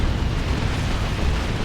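Continuous heavy rumbling explosions from stick bombs and a nuke in the real-time strategy game Dawn of War 2, Imperial Guard against Orks, a loud dense roar of booms with no clear gaps between blasts.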